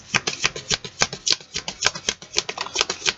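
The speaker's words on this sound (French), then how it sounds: "On va tirer 3 cartes de tarot" Tarot cards being shuffled up close, a fast, even run of crisp riffling flicks repeating steadily without pause.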